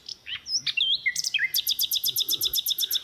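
Birds singing outdoors on a hike toward a rocky outcrop, several distinct calls: whistled slurred notes at first, then a rapid, evenly repeated bright chirping series, fairly close and clear with no talking.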